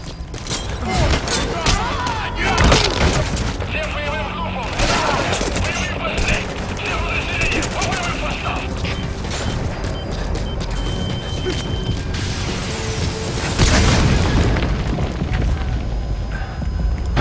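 Rocket launcher explosions and gunfire in Metal Gear Solid V rumble and boom through a busy in-game firefight, with heavy blasts around the start and again near the end, mechanical clatter between, and someone talking over parts of it.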